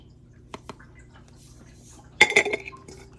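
Decorative blue craft-store sand and small seeds go into an old glass jam jar, a couple of faint ticks followed by a brief burst of gritty clinking and rattling against the glass, close and quiet.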